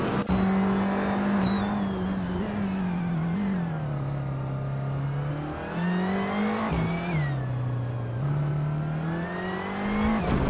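Racing video game engine of a 2016 Lada Vesta, a steady loud droning whine that rises and dips with gear changes and throttle over ten seconds, continuous with no talking.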